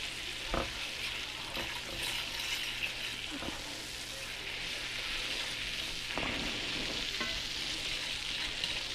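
Butter melting and sizzling in a frying pan while cooking liver and onions, a steady soft crackle throughout with occasional louder stirring scrapes, close and alone with no talking.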